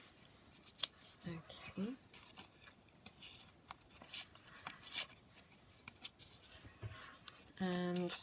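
Paper tears by hand for a handmade journal in a few short, dry ripping bursts spread between quiet pauses, close up, with a brief spoken word near the end.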